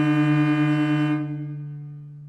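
Cello double stop with the first finger placed too high against the open D string, a loud sustained bowed chord with a sour, beating clash, the upper note ending after a second while the open string keeps ringing and fades.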